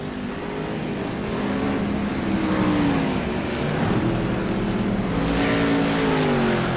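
IROC-style race cars roar around Iowa Speedway, loud sustained engine drone with rising and falling pitch as several cars pass close by, continuous throughout.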